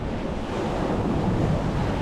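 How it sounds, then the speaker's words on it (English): Sea waves roll in at Whitby as a loud, steady wash of surf, with wind buffeting the microphone throughout and no voices. "the waves are like really coming in now"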